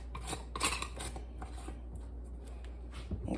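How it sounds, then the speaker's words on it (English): A lid is screwed back onto a jar of pickled eggs, giving a run of close, dry scraping rasps and gritty twisting rubs, fairly quiet and uneven, with no voices. "Put the lid back on."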